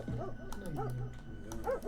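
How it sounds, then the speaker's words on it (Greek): Dogs bark and whimper in the horror video game IBLIS, a few yips and bow-wow calls in quick succession over a steady game backdrop, with faint voices underneath. "Τα σκυλιά, τα σκυλιά,"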